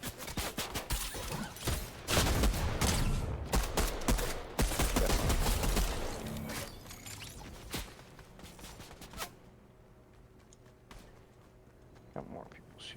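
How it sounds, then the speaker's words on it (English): Gunfire in the Fortnite video game comes as rapid bursts of dense, overlapping shots that fade to a few scattered distant cracks. "Got more people shooting."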